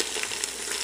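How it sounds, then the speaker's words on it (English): Potatoes fry in oil in a Calphalon pan, giving a steady, close, broadband sizzle with faint crackles throughout, no voices. "the key to good fried potatoes is to put them in the oil and season them"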